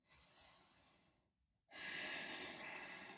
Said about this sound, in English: One more big breath in.